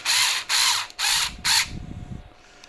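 A screw is driven into a nylon plastic part, four quick ratcheting bursts of mechanical whirring, followed by quieter low handling noises.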